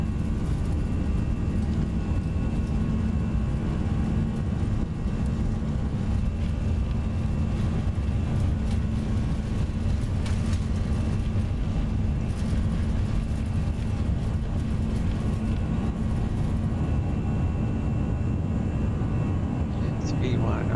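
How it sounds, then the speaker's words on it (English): Airbus A320 engines spooling at takeoff power in the X-Plane 11 flight simulator on a night flight, a steady loud broadband roar with a low hum sustained throughout, with a pilot's voice talking over it. "Takeoff power is set."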